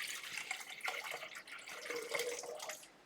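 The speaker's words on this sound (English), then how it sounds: "We're going to add to the bowl 550 grams of water," Tap water runs steadily into a bowl in a kitchen, a continuous bright splashing stream with small shifts in pitch as the bowl fills, close and fairly loud with no talking.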